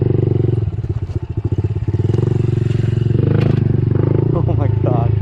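A two-stroke dirt bike engine runs close by on a steep trail, loud and steady with a buzzing rise and some clatter, while a person talks over it.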